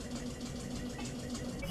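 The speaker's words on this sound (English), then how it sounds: "And then back the tractor up to the road." Tractor engine in the video game Eco, a steady mid-pitched idling drone with a faint knocking throb, continuous and close with no talk over it.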